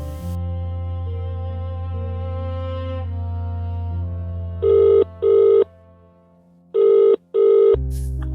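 A telephone rings in four bright electronic bursts, two close pairs standing out loud over low sustained background music, with no talking.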